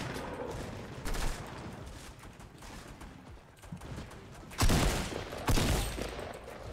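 Shotgun blasts in the video game Fortnite, a couple of heavy booming shots ringing out over a busy, noisy background of game sounds.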